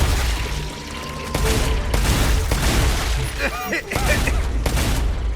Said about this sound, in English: let's test out this new shotgun